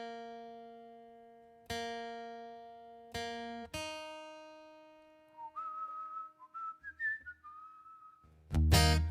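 A guitar fitted with new strings is tuned: single plucked notes ring out and decay, one note's pitch slides upward as the peg turns, then a loud strum closes the passage, with no voices.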